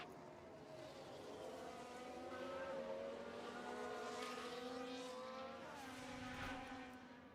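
Ferrari Formula 1 race cars in the F1 Manager 24 game, racing in the wet at Miami, pass with layered high engine whines rising and falling through the gears, one car following another at moderate loudness.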